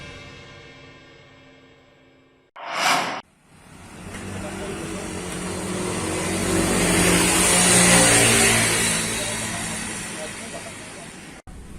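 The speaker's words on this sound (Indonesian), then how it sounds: "Salah satunya berwisata dengan mengendarai mobil VW Safari tua." An old Volkswagen Safari car driving on Bali: a brief sharp burst, then a mid-pitched engine that swells as the car passes close, with road noise, before it fades away.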